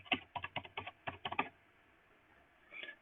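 Quick bursts of keystrokes on a computer keyboard at a Linux terminal, about a dozen close, crisp taps in the first second and a half, then quiet, then a short final flurry.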